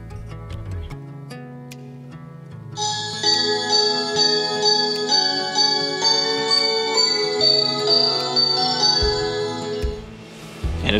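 An Alarm.com W115C smart chime playing its Christmas Special tone, a loud, bright bell-like holiday melody ringing out with sustained overlapping notes for several seconds before fading.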